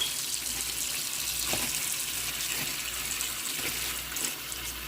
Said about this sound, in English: put the potatoes in here and then wash them because it needs to be washed.